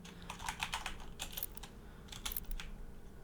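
Bursts of quick keystrokes on a computer keyboard, close and crisp, coming in short clusters separated by brief pauses.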